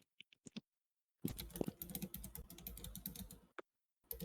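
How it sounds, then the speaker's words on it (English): Typing on a computer keyboard close to the mic, with a few isolated clicks, then a dense, loud run of rapid keystrokes lasting about two seconds and a couple of final taps. "could you move your keyboard away from your mic, or your mic away from your keyboard?"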